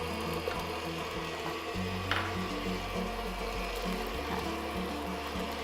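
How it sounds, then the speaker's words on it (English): An electric mixer churns biscotti dough after an egg goes in, a continuous grinding, ratcheting motor whir with rhythmic mechanical clatter, close and steady throughout. "now while that's blending"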